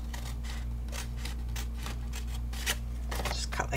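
Scissors snip through a paper treat box in a repeated series of short, crisp cuts over a steady low hum, close and fairly quiet.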